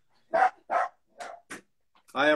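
A pet dog at home barks excitedly as its owner's girlfriend arrives: four sharp, separate barks at a moderate distance, followed by a longer, whinier yelp.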